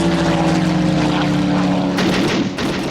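A propeller on a Fokker airplane drones loud and close, a throbbing engine hum with steady harmonics that shifts and roughens near the end.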